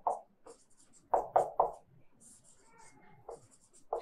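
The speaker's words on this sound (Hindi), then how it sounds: "सफेद कागज पर स्याही से बिंदु बनाकर उसके ऊपर कैल्साइट के क्रिस्टल को रखते हैं" Pen dabbing ink dots onto white paper, several short soft taps in an uneven cluster, close and quiet, with faint speech in between.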